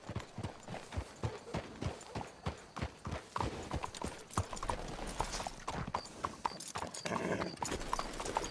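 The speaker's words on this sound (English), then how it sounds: "Let's hitch the horses up ahead." Horse hooves clip-clop in a steady, even rhythm in Red Dead Redemption 2, the strikes close and distinct, later joined by a denser rattle of harness or wagon mechanisms.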